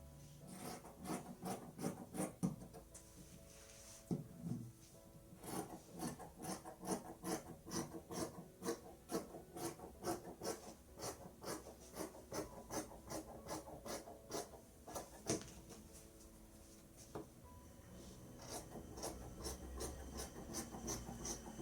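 Scissors cut summer dress fabric along a chalk line in a continuous run of rapid, rasping snips, close and steady with brief pauses, and no talking.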